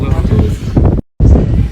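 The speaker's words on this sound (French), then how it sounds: "Il y a un vent de ouf sur Perpignan" Strong wind buffeting a microphone outdoors in Perpignan, loud low rumbling gusts with a short dropout midway, under a voice talking.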